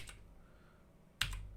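Keys tapped on an F256 computer keyboard: a faint tap near the start, a quiet pause, then a sharp, close keystroke followed by a couple of lighter clicks, with no voice.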